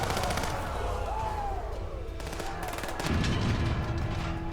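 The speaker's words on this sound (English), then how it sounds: "Alright, keep shooting." Rapid gunfire rattles in bursts during a colony gate defense in the video game Surviving the Aftermath, with repeated shots over a steady background of game sound.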